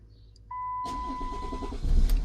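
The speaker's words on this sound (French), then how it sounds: "là on est obligé de démarrer notre bagnole" A Chrysler 300C with its gear lever stuck in park starts up nearby after a faint beep and a steady electronic tone, the engine catching abruptly and settling into a rumbling idle that swells slightly near the end.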